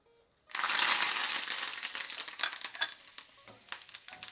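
Curry leaves hit hot oil in a small frying pan with a sudden loud burst of sizzling and crackling that slowly settles into steady spitting and popping, close up with no voices.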